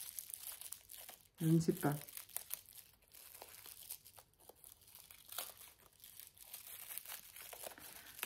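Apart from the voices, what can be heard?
opening a wrapped gift package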